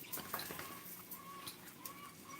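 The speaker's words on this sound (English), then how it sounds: "If it's the noise, it's a bird." An outdoor bird call rises faintly several times as short, thin whistles over a hissy background, with soft clucking or cooing-like sounds mixed in.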